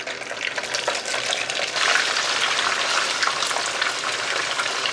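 Tofu sizzles in plenty of hot oil in a home kitchen pan, a dense, continuous crackle and spatter that swells slightly partway through, with no voices.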